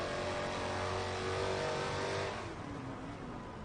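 A hypercar in a racing video game revs hard through manual gear changes, the engine note climbing and then dropping off as it runs close and steady, with no voices.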